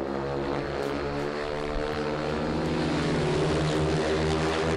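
A speedway bike engine racing around a large dirt track at Perris, a continuous loud, buzzing drone with strong harmonic whine that rises slightly in pitch and volume over a few seconds, heard alone without talk.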